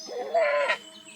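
A goat in a mountain cliff setting gives a single wavering bleat of about half a second, fairly close and clear, with no talk over it.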